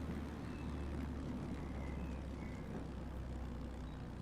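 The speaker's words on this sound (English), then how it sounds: "There's not enough runway to stop this plane." Airliner in Microsoft Flight Simulator braking hard on the runway after a fast no-flaps landing, a steady loud engine and rolling roar with constant broadband rumble throughout, no voices.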